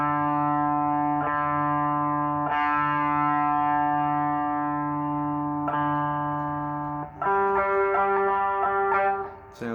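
An electric guitar's open D string is struck repeatedly for tuning through an effects unit with distortion, each pick attack followed by a long sustained drone, before the sound shifts to a different note near the end. No voices are present.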